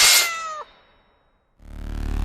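A cat, the villainess Melora, lets out a sharp descending meow, then a pause, then a loud rising rough growl close up.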